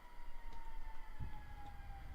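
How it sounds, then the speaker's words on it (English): An ambulance siren passes outside, a steady faint wail held on one pitch and heard indistinctly through walls over a low rumbling background. "you can hear one of the mini ambulances going by outside my"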